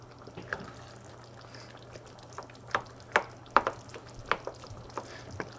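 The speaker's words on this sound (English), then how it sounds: "We should mix this together and let it cook for another 15 to 20 minutes" A spoon stirs a smoked eggplant mixture with tomato, garlic and egg in a pan, giving soft scraping clicks and taps in an irregular rhythm over a low steady hum, moderately close.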